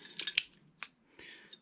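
Keys are pulled from an Era Vectis 5-lever multipoint uPVC door lock gearbox: a few sharp metallic clicks and scrapes up close, then a short rasping slide and a final small click.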